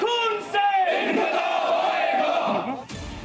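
A dense crowd chants slogans in unison at a Hezbollah procession outside a mosque, loud, sustained massed voices with rising and falling shouts, ending abruptly in a brief burst of noise.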